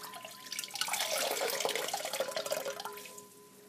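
Water is squeezed out of a wet crocheted broomstick lace shawl, a short, soft burst of splashing and trickling that rises and fades over a few seconds in a quiet room.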